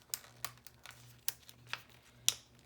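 A sticker is handled and peeled in a quiet room, giving a string of sharp little crinkles and ticks at irregular intervals, close and soft, with no talking.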